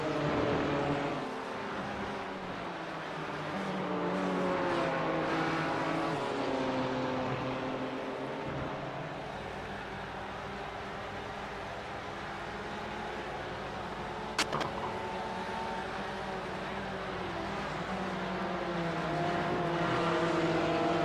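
Porsche and BMW race cars in an iRacing sim endurance race at Watkins Glen, engines droning steadily and loud throughout with shifting pitch as they run together, one brief sharp click midway.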